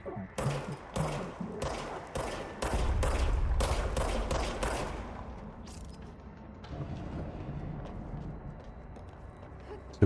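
Rapid bursts of gunfire in the video game Control, a quick series of sharp loud shots in the opening seconds followed by a heavier rumbling stretch and fading echoes, no talk.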